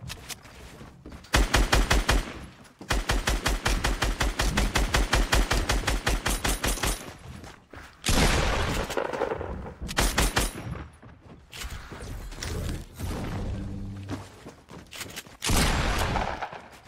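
Rapid bursts of video game gunfire, including a pistol, crack in dense repeated volleys, loud and close, with short pauses between strings of shots and no talking.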